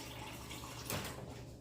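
Water is poured into a soup pot in one short, soft splash of liquid against the low hum of a quiet kitchen.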